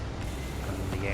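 The engine of the Narwhal spaceship in Starfield starts up with a dense, loud, steady rumble. The mechanical roar holds for about a second with no clear pulses.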